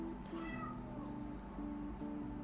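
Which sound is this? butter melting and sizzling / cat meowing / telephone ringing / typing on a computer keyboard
cat meowing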